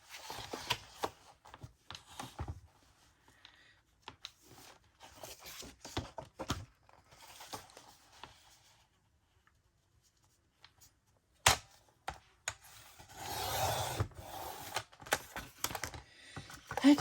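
Scissors or a paper cutter trimming leftover paper folder scraps to 8 1/2 inch height, giving a series of quiet crisp snips and rustles with short pauses between cuts.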